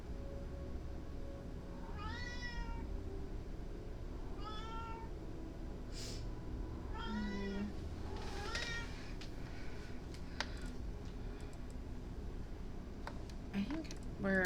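A cat meowing several times in a sci-fi game setting, each call a rising, wavering mew over a low ambient hum, with a few faint clicks between.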